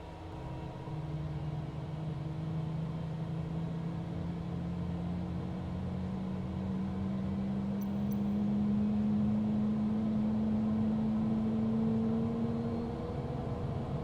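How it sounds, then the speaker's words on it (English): A Cessna Citation CJ4 right-hand jet engine spools up in Microsoft Flight Simulator, starting as a low hum and whine that climbs slowly and steadily in pitch over a constant background rumble. "And we start our right-hand engine."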